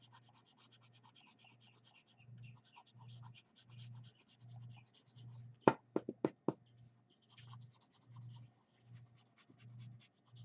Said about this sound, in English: Gonna erase those lines so you can see the mouth.